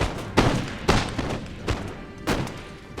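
Musket volleys from line infantry in Empire: Total War, four rippling bursts of massed gunfire roughly every half second to second, loud and close with booming tails.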